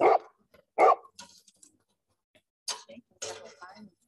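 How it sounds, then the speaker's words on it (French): Guard dogs barking at arriving visitors: two sharp, loud barks close together, then a few quieter, more scattered barks and yips after a short pause. "excusez mes chiens de garde"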